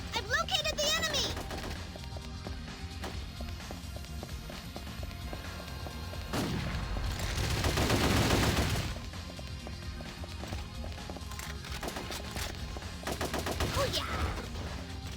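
Gunfire in the PSP game Ghost in the Shell: Stand Alone Complex, bursts of shots mixed with game music and effects, a loud swell of blasts midway, and a brief voice exclaiming near the start.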